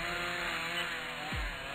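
A chainsaw drones steadily through a cut in the Amateur Surgeon video game, a continuous buzzing saw tone with a brief downward sweep near the end.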